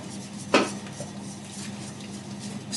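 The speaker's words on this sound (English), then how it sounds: "Whisk it into smaller pieces." A whisk chopping food into smaller pieces in a bowl, with one sharp clack of metal against the bowl, then soft scraping and light tapping, close by and with no talking.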